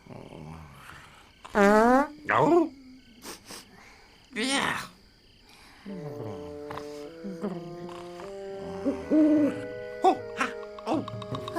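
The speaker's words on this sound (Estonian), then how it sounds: "see on kõigest öökull" A cartoon owl gives a few drawn-out warbling hoots, loud and close, then light twinkling music carries on with soft chirps.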